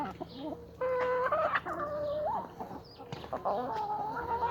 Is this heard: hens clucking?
yes